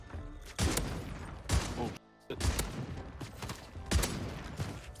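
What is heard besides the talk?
Jack Devastator guns firing in Warzone video game gameplay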